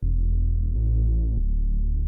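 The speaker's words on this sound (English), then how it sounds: "We'll get a sine wave, perfect. We'll pull this down 2 octaves" A pure sine oscillator in the Vital synth, pitched down two octaves, holds a deep, smooth low tone that shifts pitch slightly twice over about two seconds, steady and loud with no other sound.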